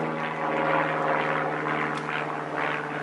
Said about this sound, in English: Glad I remembered that while the plane is flying over.